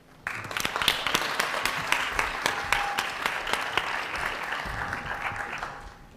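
An audience welcomes a speaker at a college sustainability talk with a burst of applause that starts abruptly, holds steady and loud with dense clapping, then fades out after about six seconds.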